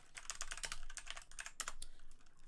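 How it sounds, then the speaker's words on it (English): Rapid, light clicking of computer keyboard keys in quick bursts, faint but close, continuing without pause. "I'm typing that in"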